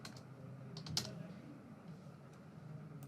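Typing on a computer keyboard, a short run of light, quick key clicks with one sharper tap, quiet and close in a still room.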